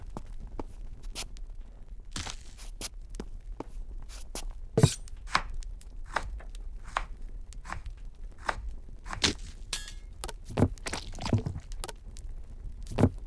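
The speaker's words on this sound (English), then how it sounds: "Reluctant chop chop chop. Slice the bread." A bread loaf being sliced in the cooking game Cucina Stella, giving a run of quick, close chopping cuts in an uneven rhythm, with a few louder thunks and faint rustling.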